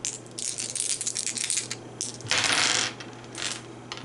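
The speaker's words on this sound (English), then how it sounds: "So I'm going to play those 2 dice here." Dice clatter and rattle across a tabletop during a Pathfinder Skull and Shackles card game, a close burst of tumbling clicks that settles, then rolls again.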